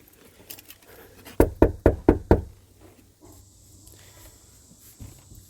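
Five sharp knocks in quick succession on a house's front door, close and loud, followed by quiet waiting.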